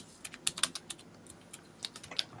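Rapid, irregular keystrokes clatter on a computer keyboard, a quick burst of fast typing close by with no voices.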